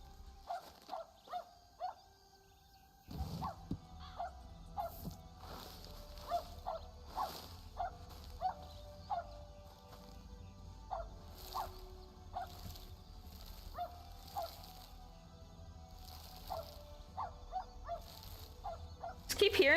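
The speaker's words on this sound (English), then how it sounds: "Just keep hearing this dog." A dog barks repeatedly in Red Dead Redemption 2, short sharp yelps coming in an irregular series at moderate distance over a low game ambience.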